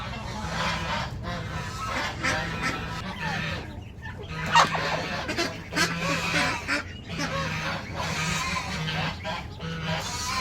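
An agitated chicken kept with ducklings clucks and squawks repeatedly in loud, irregular bursts, close by, over a busy background of softer peeping and bird noise.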